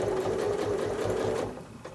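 Sewing machine stitching a quilt block in stippling, a close, steady rhythmic whir of rapid needle strokes that slows and fades near the end.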